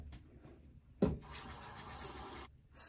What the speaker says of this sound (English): Let me wash my face first.